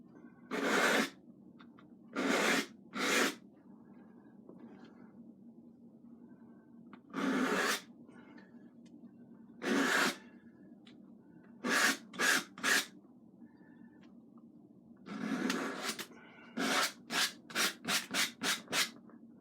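A palette knife scrapes oil paint off a canvas, mostly the painted mountains, in repeated rasping strokes: a few spaced single scrapes, then quick bursts of short strokes near the end.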